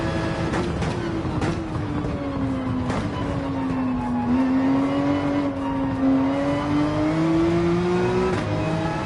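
A Porsche 911 engine lapping a track in Gran Turismo 7 holds a steady, loud drone whose pitch slowly dips and rises with the throttle, running continuously and alone for the whole stretch.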